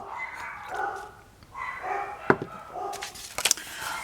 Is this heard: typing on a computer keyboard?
no